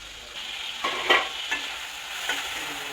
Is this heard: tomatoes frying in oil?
yes